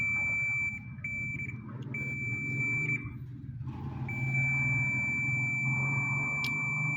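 Steady electronic beep tones from a multimeter probing the coils of a Drean Next Eco Inverter washing machine's motor during repair, a thin sustained tone cutting in and out over a low background hum with faint handling noise.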